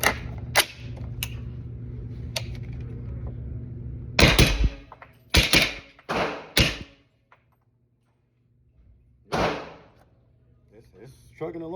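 Suppressed 300 Blackout rifle firing 200-grain rounds through an Energetic Peak 30 suppressor outdoors: a handful of sharp, loud cracks spaced irregularly, a few in quick pairs, with low background hum early on and quiet gaps between shots.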